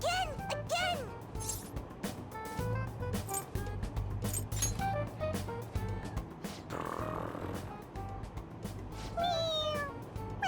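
Toy cat in the video game Persona 5 Royal meowing repeatedly when its head is pressed, several bright chirpy meows scattered over background game music, with voices speaking in between and one voice imitating the meow.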